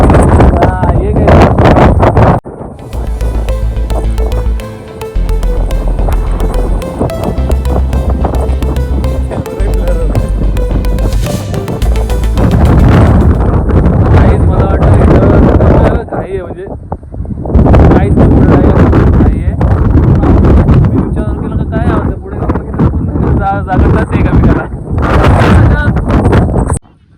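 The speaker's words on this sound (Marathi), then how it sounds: "अजून खूप हवा सुटली इथं" Strong wind in foggy Lonavala roars and buffets loudly against the microphone in heavy, sustained gusts, easing briefly partway through, with people talking.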